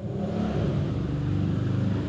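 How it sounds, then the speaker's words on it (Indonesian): A motorbike engine revs steadily at close range somewhere in Denpasar, Bali, a continuous mid-pitched drone that rises slightly and holds for about two seconds with no voices. "Kan terdengar suara motor."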